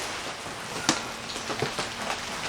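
Rain falling steadily outside a greenhouse on a rainy Sunday, a dense patter on the surfaces with a few sharper nearby drips and taps.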